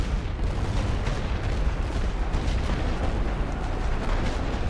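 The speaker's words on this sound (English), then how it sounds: "I'll just hit them with some light artillery because that's what I've got." Light artillery firing in the World War I strategy game The Great War: Western Front, a continuous rumbling barrage of booms and bursts, loud and dense with no pauses.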